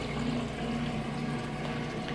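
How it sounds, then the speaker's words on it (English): A Whirlpool direct drive washing machine pumps water out through a long drain hose during the rinse cycle, a steady low humming pump with a gurgling watery churn, constant and close with no talking. "It's draining that water out"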